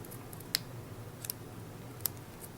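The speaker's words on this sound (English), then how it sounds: "See, I can cut straight on these little diagonal lines." Small scissors snip paper for a little flag embellishment, a few crisp, faint cuts spaced out over a quiet room hum, with no talking.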